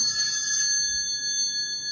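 A phone rings steadily with a continuous electronic tone, unbroken and fairly loud, with no talking.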